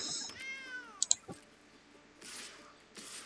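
A short cat meow from the MTG Arena digital card game, a single faint falling cry followed by a few soft clicks and quiet background.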